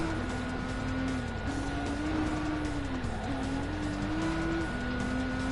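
Engine of a GT-R race car driven in GT Sport, a steady droning whine that rises and dips through gear changes, loud and continuous with faint tire noise in the mix.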